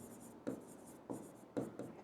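A teacher writes on a board in a classroom, chalk tapping and scratching in four short strokes, close and fairly quiet, with no talking.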